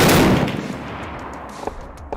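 A Soviet DShK heavy machine gun fires outdoors, opening with a loud, booming report whose echo rolls away, followed by a few sharper, fainter cracks.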